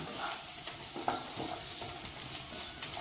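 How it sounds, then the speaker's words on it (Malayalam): Sliced coconut and onion fry in oil for a soya roast, giving a continuous close sizzle broken by scraping stirs and a few light clinks. "ഇനി ഇതൊന്ന് നാളികേരവും ഉള്ളിയും കൂടി ഒന്ന് ഫ്രൈ ആവട്ടെ കേട്ടോ"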